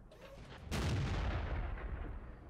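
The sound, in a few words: tank cannon fire in World of Tanks video game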